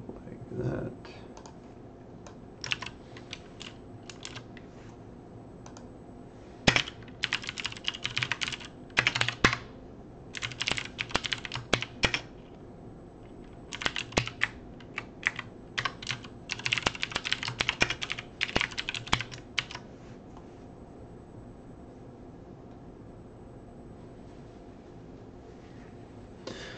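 Close clacking on a computer keyboard comes in uneven bursts of rapid keystrokes separated by pauses, with a faint background hum underneath.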